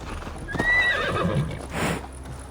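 Horse ridden by Eivor in Assassin's Creed Valhalla, with close hoof clip-clops and a loud neigh early on, followed by a burst of breathy snorting near the end.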